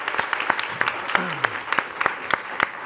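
Applause from a school board meeting audience congratulating student math award winners, a steady patter of clapping hands sustained throughout with a few sharper claps standing out.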